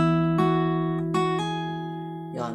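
Acoustic guitar's first string, fretted at the first fret, is plucked several times over a ringing lower note, each attack clear and close and left to sustain, with no talking.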